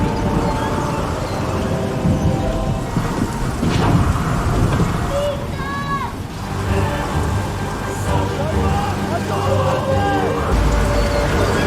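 Heavy rain roars steadily in a thunderstorm scene from the Indian film Notebook, with low thunder rumbling beneath, a dull boom near the middle, and faint tonal calls or music drifting over the downpour.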